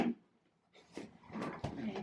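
Wooden drawers slid out of a dresser one after another, a few scraping, knocking handling sounds close by in a quiet room, with a short pause before the drawer noises.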